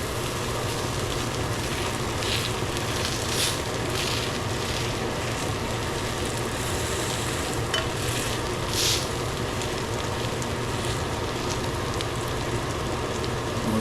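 Okra frying in a hot pan, a steady, even sizzle that holds constant throughout, with occasional brighter crackles and pops rising above the hiss.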